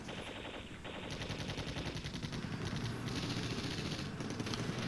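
Rapid automatic gunfire rattles continuously in a Cold War tank battle from the strategy game Flashpoint Campaigns Red Storm, as sustained bursts overlap with no voices.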